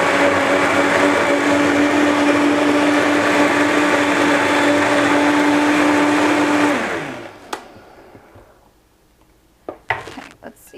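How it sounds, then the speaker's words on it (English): A blender whirs loudly and steadily through a raw apple and beet smoothie, then winds down and stops; a few faint clicks and knocks follow in the quiet. "now blend it again"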